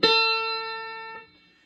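One clean guitar note, A played on the 10th fret of the 2nd string, is plucked and sustains evenly on its own, fading and cutting off shortly after a second.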